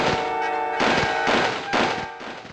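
Gunfire from the Army Men video game, a rifle with a slow fire rate: a series of loud, roughly evenly spaced thumping shots, about four in quick succession, over a dense bright background of game sound.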